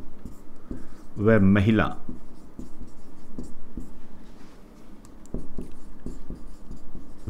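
A pen writes a line on paper, a soft scratching close by that runs under continuous talking, with a short burst of louder voice near the start.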